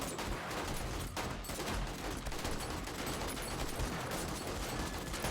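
An automated turret fires at swarming mobs in the survival game 7 Days to Die, a rapid dense fusillade of gunshots rattling continuously at moderate level without pause.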